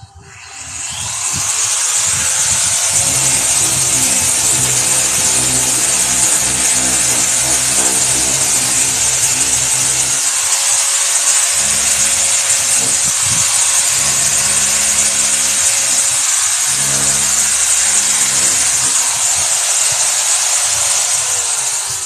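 A DA sander strips paint from a C3 Corvette body, whirring loud and steady with a harsh abrasive hiss that continues almost unbroken, its pitch shifting slightly as pressure changes, and no voices over it.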